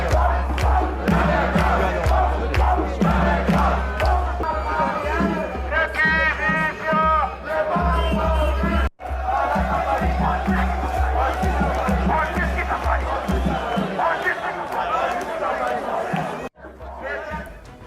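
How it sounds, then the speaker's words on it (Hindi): Crowd of about 250 African migrants protesting outside a theatre, chanting and shouting together in a dense, loud, continuous roar with rhythmic cheering bursts and a constant low hum underneath. "250 अफ्रीकी प्रवासियों का थिएटर के बाहर प्रोटेस्ट।"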